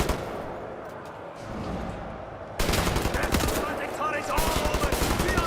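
Video game gunfire from Wolfenstein: The New Order, with rapid automatic bursts after a quieter stretch of muffled background rumble. The shots are loud, dense and rhythmic, and continue to the end.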